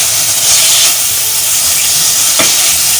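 Garlic and a piece of chicken frying in a pan for barley soup give off a loud, steady sizzle and hiss, with a brief stir or scrape partway through and no talking.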